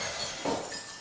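Glass shatters in a quick, faint burst of bright clinks and breaking shards, lasting under a second, with no voices.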